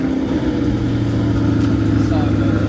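Convertible sports car engine running with a steady mid-pitched idle and rising rev, heard close up while a person talks over it.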